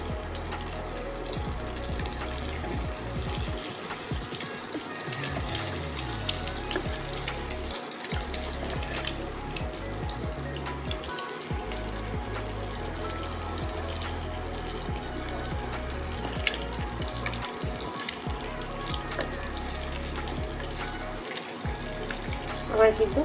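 Eggs frying in a pan for a Bengali steamed egg dish, a steady close sizzle running throughout with faint stirring and clatter, and no talking.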